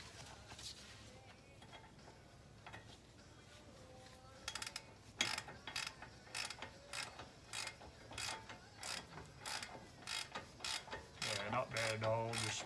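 Rapid clicking ratchet strokes tighten brake caliper bolts on a Pontiac G8 GT, starting sparse and settling into a steady, close rhythm of repeated pawl clicks, with a heavier metallic rattle near the end.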